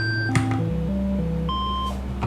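Synthesized notes from the zxcvbn sequencer on norns, sounding as a clean sequence of sustained electronic tones stepping between pitches, with a soft click near the start and no talk.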